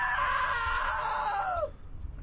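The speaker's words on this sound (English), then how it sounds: "Now that was a great scream." A single long, loud scream from a character in the video game What Remains of Edith Finch, held for over a second before falling in pitch and cutting off.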